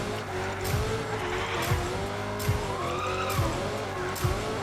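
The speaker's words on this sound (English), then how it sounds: "you'll see my car drift to the right" A car drifting in a racing video game, engine droning with rising and falling pitch while tires squeal through the slide, with several quick gear-shift blips spaced along it, loud and with no talk.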